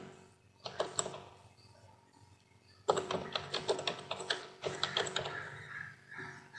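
Clattering keystrokes on a computer keyboard as a domain name is entered, with a short burst of taps, a pause, then a faster run of quiet clicks close by.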